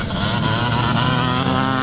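A classic 1984-class motocross motorcycle roars past on a racing lap at Strathaven, a loud, dense, steady engine drone with buzzing harmonics and no pauses.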